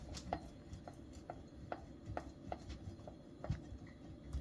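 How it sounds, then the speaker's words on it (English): Monterey Jack cheese being shredded on a grater into a bowl, with soft, faint, regular scraping strokes repeating at a steady rhythm, close by and quiet. "I'm going to shred the cheese."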